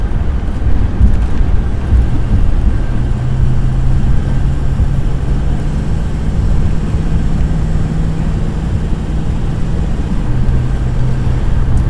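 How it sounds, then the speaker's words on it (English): A snow plow truck passes by in morning traffic on a snowy road, heard as a steady low rumble that holds for the whole stretch among wind and other vehicle noise, with no talking. "Oh no, that's a plow."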